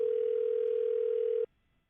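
A steady telephone tone on an outgoing call to someone who doesn't pick up, one continuous ring-back tone lasting about a second and a half before cutting off abruptly into near silence.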